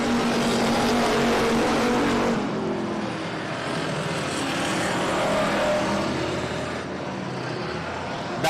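Race cars roar around the I-37 Speedway oval during a regular race program, a loud, continuous engine drone that swells and eases as cars pass, with no clear talk.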